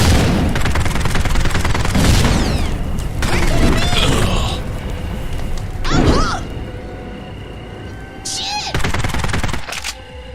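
Bursts of low-damage, low-accuracy submachine gun fire in the Postal video game, rapid rattling volleys separated by brief pauses, with sharper cracks and booms mixed in and loud throughout.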